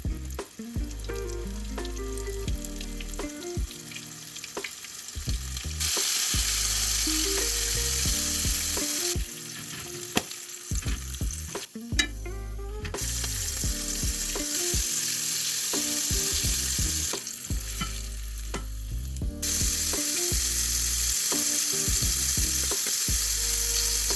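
Battered calamari sizzles and crackles steadily in hot oil, a dense, continuous frying hiss that swells louder in stretches, with occasional clinks of utensils and no talking.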